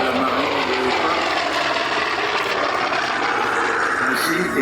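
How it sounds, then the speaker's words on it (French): A WWII-era Corsair navy fighter's piston engine roars as a loud, steady broadband drone, continuous throughout with a faint murmur of speech beneath it. "les avions de cette époque-là, c'était ceux-là, les Corsair, de la marine de l'époque"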